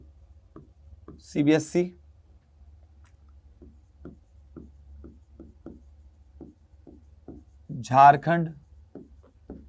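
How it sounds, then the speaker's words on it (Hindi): Marker or chalk scratching across a classroom board in short, rhythmic strokes, heard clearly between bursts of a man lecturing in Hindi who speaks at the start and again near the end. "मैं यहां बोर्ड लिख रहा हूं कुछ"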